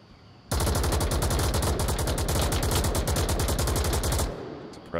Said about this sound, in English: Suppressive fire there to support Cookie Noobs slowly pushing up.